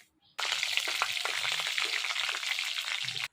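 Black cumin and dried chilli hit hot oil in a pan, bursting into a dense crackling sizzle that starts abruptly, runs steadily for about three seconds close up, then cuts off.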